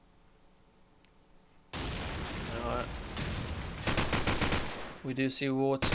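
Rapid gunfire bursts from a rifle shooting through a wall in a Counter-Strike match, heard under a caster's loud excited commentary, with crowd noise swelling and a rattling volley near the end.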